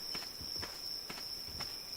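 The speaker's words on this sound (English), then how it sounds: "Beaver footsteps." Beaver footsteps in the video game Ark: four or five soft, evenly spaced padding steps under a steady high insect-like drone, with no talking.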